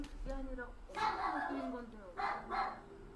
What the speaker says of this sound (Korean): 방에서 강아지가 짖기 시작합니다.